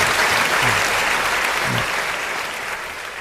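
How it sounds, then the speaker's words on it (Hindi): An audience at a Hindi kavi sammelan poetry gathering breaks into loud, sustained clapping that fills the room, then slowly tapers off over a few seconds. "एक बार जोरदार तालियां बजाइए"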